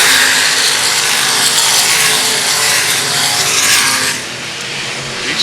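Race cars running laps at Lakeside Speedway, a loud continuous roar of engines sweeping past close by, fading somewhat near the end.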